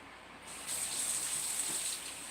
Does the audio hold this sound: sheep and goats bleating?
no